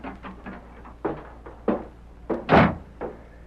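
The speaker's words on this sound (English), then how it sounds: "Red Murphy looked up in surprise at the sound of the door" A door in a radio drama opens with a run of wooden knocks and thuds, ending in a louder, sharper bump near the end, close and dry with no voices.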